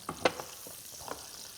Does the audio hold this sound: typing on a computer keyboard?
no